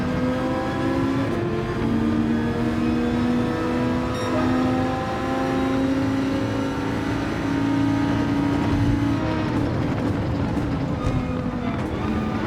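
A Viper's engine revving hard through the gears in a race, with a steady, loud tone that climbs in pitch, drops at each shift, and keeps pulling alone for the length of the clip.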